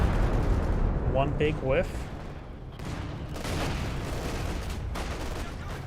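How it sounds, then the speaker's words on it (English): Artillery barrage from the WWII strategy game Company of Heroes 2, a dense rumble of distant booms and crackling shell impacts running throughout, with a voice briefly talking over it. "Some sort of artillery barrage here and some sort of artillery barrage ring in over here."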